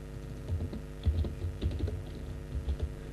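Code typed on a computer keyboard in a quiet room: a steady run of soft, close key clicks at an uneven rhythm, with no voice.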